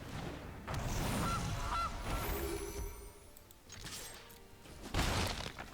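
A Gilded Goose card in MTG Arena triggers a pair of short, nasal goose honks, followed by clattering game effects and a sparkling burst near the end.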